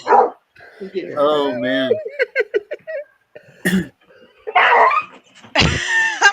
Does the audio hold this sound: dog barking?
yes